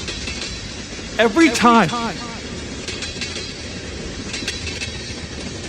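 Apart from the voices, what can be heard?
train passing, heard from a rail cam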